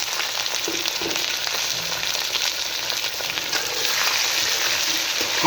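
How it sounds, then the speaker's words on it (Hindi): Chicken pieces frying in hot cooking oil with browned onions for a dhaba-style chana dal dish, a dense steady sizzle and crackle that grows slightly louder toward the end, no speech. "अब यहाँ पे स्टेज पे इसके अंदर हम शामिल करेंगे चिकन।"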